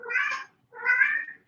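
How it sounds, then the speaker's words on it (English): House cat meowing indoors, two drawn-out meows separated by a short pause, close and clear with nothing else around them. "my cat's over here meowing out of nowhere"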